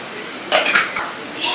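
Dishes and pots being washed by hand at home, with metal clinks and clatters coming in short bursts close to the microphone against a quiet background.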